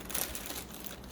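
Plastic bag holding a Foxwell battery tester being handled, with close crinkling and rustling that rises in a quick burst and then continues more softly, with no talking.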